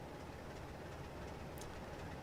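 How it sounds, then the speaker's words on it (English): Freight train idling at a large station in Train Sim 2020: a steady, continuous low rumble and engine hum with broad noise, constant throughout with no distinct events. "You can hear there's a freight train in the station,"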